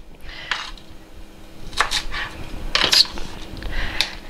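Knife cutting Brussels sprouts into quarters on a board, a few separate crisp chops and taps spaced out over a quiet kitchen background.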